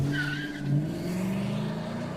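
A car sound effect with an engine drone and a brief high tire squeal near the start, steady and fairly loud for a couple of seconds with no voices.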